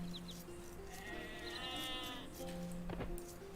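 Sheep in a real-time strategy game bleat in a sustained, wavering call amid a busy mix of other game sounds and soft background noise.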